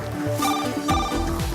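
A mobile phone rings during a car test session, its electronic ringtone repeating in short bursts across the whole moment, close and fairly loud, with no talking.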